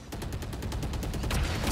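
Rapid gunfire in a Valorant Champions Tour Pacific match between Talon and Zeta, a quick string of close, sharp shots in a steady rhythm, loud and alone, ending in a heavier burst.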